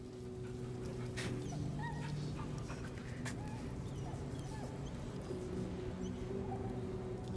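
Scratch the dog in a video game whimpers and whines while being petted, soft high yelps over a steady bed of game music, faint and close.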